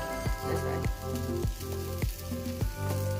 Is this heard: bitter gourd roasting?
yes